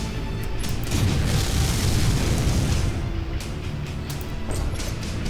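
Artillery shells explode over and over in MechWarrior 5: Mercenaries, heard as a loud, continuous rumbling barrage of booms with rough low-end blasts and no pauses.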